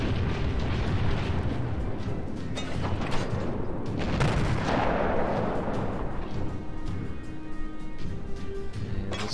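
Naval shell fire from the World of Warships game, a steady roaring wash of booming cannon blasts and explosions that rises and swells near the middle, dense and loud with no clear single shots.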